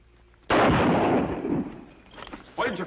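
A gunshot rings out in an old-time Western radio drama, a loud sharp blast with a long rumbling decay, followed by a further burst of noise.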